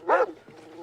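A dog gives one sharp close bark, followed by a fainter lower second sound.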